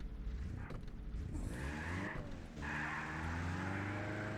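A car in a racing video game drives over obstacles, its engine droning with a rising and falling whine and scraping, skidding noises as it bumps across them.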